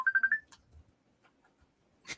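An incoming call sets off a phone ringtone, a short run of four rapid electronic beeps up close, followed by faint rustles and a brief burst of noise.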